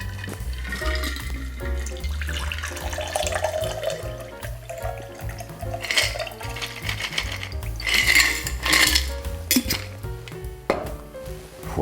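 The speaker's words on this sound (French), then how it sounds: "On verse toute la préparation." Cocktail mixture poured into a chilled glass, a long liquid splash and clink of glass and ice close up, with rhythmic background music beneath.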